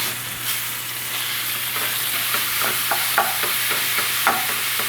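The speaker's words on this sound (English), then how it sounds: "I'm just going in with a little avocado oil and down with my pork." Ground pork sizzles and fries steadily in avocado oil in a hot pan, a continuous close crackle with occasional stirring scrapes and a low hum underneath, no talking.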